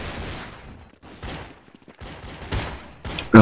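Rapid Counter-Strike gunfire on de_nuke, with bursts of close, loud shots and fusillades crackling in clusters and short gaps between them.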